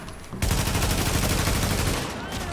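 Sustained rapid gunfire from the video game The Division, a dense continuous burst starting abruptly and running loud for about two seconds before easing off.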